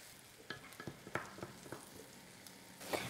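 Crushed garlic and tomato pulp sizzle and crackle in a paella pan, with soft stirring scrapes and irregular pops over a steady frying hiss. No voices.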